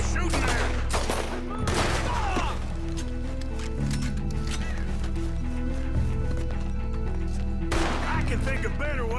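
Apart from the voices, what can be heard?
gunfire in Red Dead Redemption 2 video game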